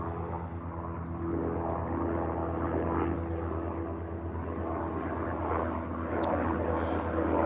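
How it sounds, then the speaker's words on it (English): An airplane passes overhead outdoors, a steady broad engine drone that holds at an even level and swells slightly toward the end, with no one speaking. "let's wait for this airplane to pass by so that we can be audible"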